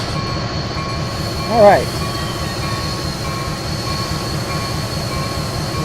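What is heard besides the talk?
locomotives in the video game Railworks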